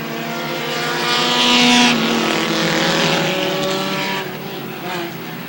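Race cars roaring around a dirt speedway at Airborne Speedway in Plattsburgh, a loud blended engine drone swelling as the pack passes, with a commentator's voice over it.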